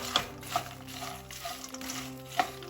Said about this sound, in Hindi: और अब ये सारी फ्राई की हुई चीज़ें भी इसमें चली जाएंगी, और हमें इन सब को अच्छे से मिला लेना है।